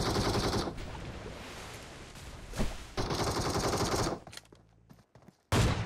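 Sustained bursts of rapid automatic gunfire from a game, loud and continuous, broken by short pauses and sharper single shots near the end.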